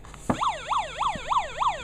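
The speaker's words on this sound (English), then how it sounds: "make the contact here and kick off the siren" An electronic siren on a small pinewood derby police car wails in a rapid, repeating up-and-down yelp after a sharp click switches it on; it is close and clear, with no talking.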